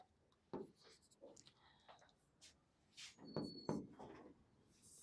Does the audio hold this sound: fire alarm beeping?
no